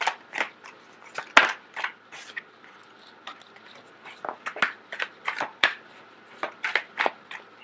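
Tarot cards shuffled close by in a quiet room, a steady run of soft riffling slaps and flicks with two sharper card snaps standing out, no voices.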